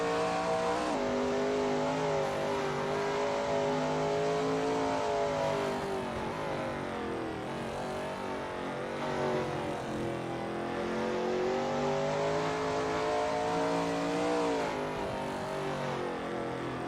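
Shelby Mustang GT350R race car at Sebring in a racing video game: steady, loud engine roar with rising and falling revs as it drives through corners, continuous and close, with no speech.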